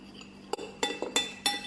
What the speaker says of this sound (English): Get all the yeast off the sides. Give it a good mix.